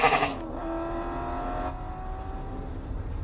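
A single drawn-out goat bleat, steady and fairly loud, holding a wavering tone for about three seconds with faint background noise.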